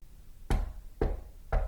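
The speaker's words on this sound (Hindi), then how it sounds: "दरवाजे पर 3 बार दस्तक होती है।" Three sharp knocks on a door, spaced about half a second apart, each a loud close thud ringing briefly before fading into a faint background hiss.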